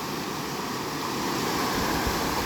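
Steady broadband rush of water at Greenville Falls on Greenville Creek in Greenville, Ohio, a constant close roar that swells slightly louder midway, with no talk.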